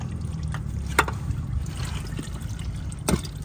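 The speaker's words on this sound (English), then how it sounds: "All right, so oil's just about finished draining." Engine oil drains from a 2013 Ford Edge with a 2.0L engine, a steady low trickle and dribble of liquid, with two brief, sharper drips or splashes standing out near the start and end.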